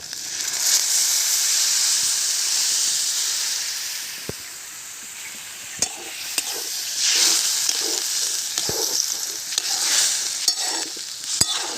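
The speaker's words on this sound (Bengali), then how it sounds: "এবার জল দেব।" Oysters cook in a hot pan as water is poured in, giving a steady loud hiss and sizzle with occasional sharp clinks and scraping stirs.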